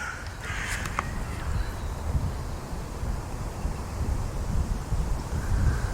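A crow caws outdoors in the morning, a few sharp calls near the start, heard over steady wind buffeting the microphone and a low rumble of background noise.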